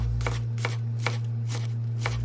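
A knife dices vegetables small on a cutting board for a Lebanese meal, five evenly spaced chops standing out over a steady low hum.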